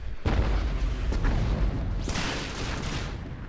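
Mortar fire in Star Wars: The Old Republic PvP combat, a dense continuous barrage of booming explosions and bursts, loud and rumbling throughout with overlapping blasts and no pauses.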